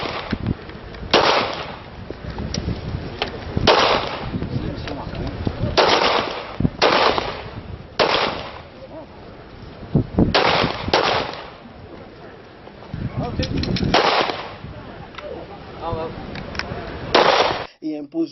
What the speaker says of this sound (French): de démonstration de tir.